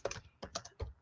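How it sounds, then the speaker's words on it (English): A few quick bursts of computer keyboard keystrokes tap out close and faint in a quiet room, three short clusters of clicks in about a second. "Let me just type a message here."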